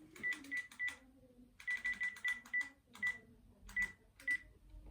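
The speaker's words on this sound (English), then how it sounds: "I'm going to dial it." Keypad presses on a Panasonic KX-TGE822 cordless phone, each sounding a short dialing tone in quick irregular bursts, about a dozen beeps in groups, close and clear against a quiet room.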